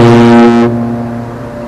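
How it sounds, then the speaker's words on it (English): The Queen Mary 2 cruise ship sounds its deep horn at Southampton port, a loud sustained tone that cuts off midway and leaves a long reverberating tail echoing around the docks. "You can hear Queen Mary 2 horn reverberate around the port."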